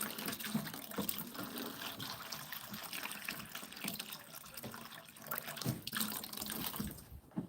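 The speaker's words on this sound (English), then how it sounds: "I'm just refilling the water real quick." Water runs and splashes as a pet goose's water dish is refilled, a faint continuous pour with small gurgles and drips lasting several seconds and no speech over it.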